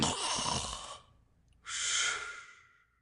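A human voice imitates a snore of a man asleep in his chair with his mouth wide open, two long breathy rasping inhalations separated by a brief pause.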